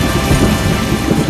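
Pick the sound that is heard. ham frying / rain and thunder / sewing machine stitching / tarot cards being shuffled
rain and thunder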